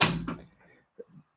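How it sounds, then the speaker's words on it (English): An indoor door swings shut with a solid thunk at the start, followed by a short fading rumble and a couple of faint knocks, all fairly close. "Close the door, please."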